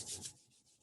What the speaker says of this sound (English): So just rubbing your hands together